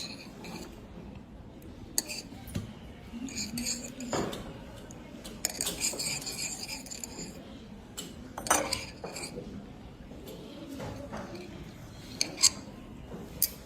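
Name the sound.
pouring and stirring copper sulfate solution in lab glassware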